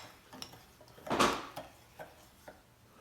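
Sugar cookie dough is being mixed in a big bowl at a home kitchen while baking with kids, giving clinks and scrapes of a utensil against the bowl, with one louder knock in the middle and softer taps after.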